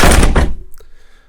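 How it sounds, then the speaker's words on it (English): A door is shut in a hurry during a tense moment, giving one heavy thunk that fills the space and then fades into a short ringing tail, with no talking. "Shut the door! Shut the door!"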